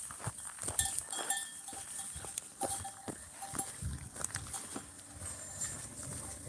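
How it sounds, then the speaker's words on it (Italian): Flock of sheep moving slowly along a path outdoors, with scattered bleats, shuffling hooves and tinkling bells at close to moderate distance over a continuous background rumble. "Le pecore che si spostano."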